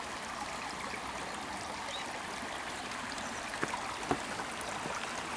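Water of Mariposa Creek flows steadily in a continuous broadband rush, loud and close throughout, with a couple of faint knocks near the end and no voices.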